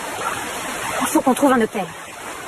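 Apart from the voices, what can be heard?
waterfall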